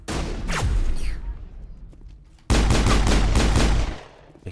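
Sniper fire in the Mass Effect 1 video game gives a loud blast that trails off. A second heavy burst of rapid shots follows midway and then cuts out, close and forceful.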